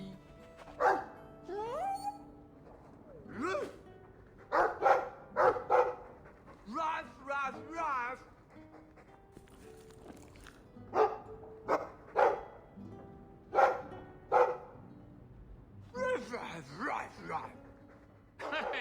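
A Mabari war dog from the video game Dragon Age 2 gives a series of short, loud barks and yips. They come in irregular bursts alongside in-game voices.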